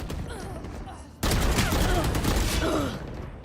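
Rapid gunfire in the tactical shooter Valorant during a pro esports match, dense continuous bursts of shots under excited commentary voices, louder after the first second.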